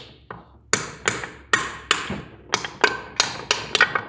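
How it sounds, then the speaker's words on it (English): Sharp metal hammer blows knocking a bearing out of a Muncie 4-speed gearbox case, about nine close, loud strikes at an uneven pace, each ringing briefly before the next. "Let's knock this here bearing out real quick"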